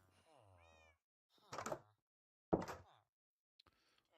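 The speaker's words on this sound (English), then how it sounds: "Hello, cat." A cat at a desk meows in a couple of short, close calls, mixed with soft thumps and knocks nearby while a person speaks quietly between the sounds.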